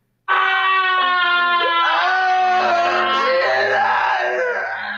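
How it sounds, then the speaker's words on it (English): A loud, sustained, wavering scream from the horror film Return of the Living Dead rings out alone and close, with raised, strained pitch and a low groaning tone joining partway through. "There's a lot of screaming in this movie."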